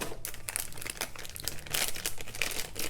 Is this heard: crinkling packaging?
yes